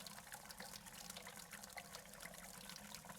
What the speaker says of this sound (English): someone upstairs pissing from the sounds of it on the stream